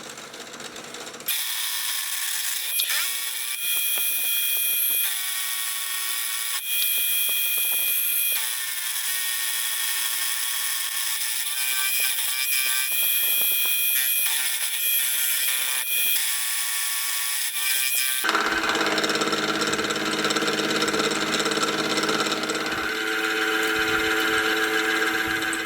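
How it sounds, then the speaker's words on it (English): A face mill cuts a step into the end of a steel lathe centering tool shank, giving a steady, loud whine with ringing tones that shift partway through into a broader, harsher cutting roar, continuous and with no voices. "I'll also use the face mill to add a step at the end."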